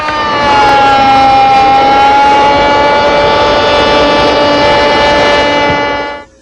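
A shop cutter on a table machine runs wood rails and stiles along one edge. It makes a loud, sustained, close, steady whine with a tonal ring, then winds down and stops at the end.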